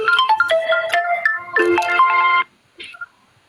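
A melodic phone ringtone announces an incoming call, a loud run of bright electronic notes that plays for over two seconds, stops, then gives one brief chirp.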